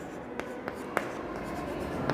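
Chalk or marker strokes on a classroom board during a maths lesson, a few sharp taps and scratchy strokes spaced irregularly, close by over a quiet room hum.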